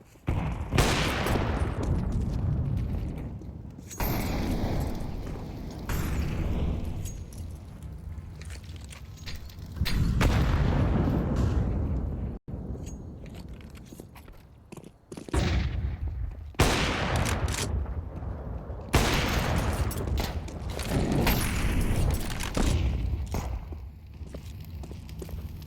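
Pistol gunfire in a Counter-Strike match during an ESL Impact League game: loud, dense bursts of in-game shots, some in rapid strings, with brief quieter gaps.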